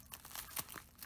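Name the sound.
package being cut open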